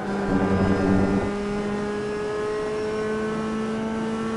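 Mazda MX-5 race cars racing at Watkins Glen in the iRacing game, with a loud, steady engine drone that swells briefly at first and then settles into a constant hum.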